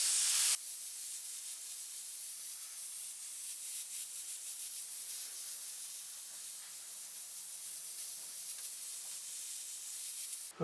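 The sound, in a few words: airbrush spraying transparent tint paint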